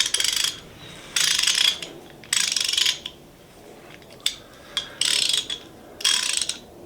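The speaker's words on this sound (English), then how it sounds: "This is a workhorse of a wrench right here." A PBL USA Professional ratchet wrench is spun in several separate bursts, each a rapid, crisp run of metallic pawl clicks heard up close with short pauses in between and no talking.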